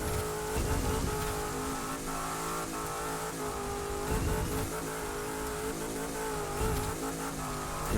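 A car driving fast across a bridge on a twisty road, its engine revving steadily and loudly throughout with small surges as the driver keeps making little steering corrections; a faint tire squeal may come through.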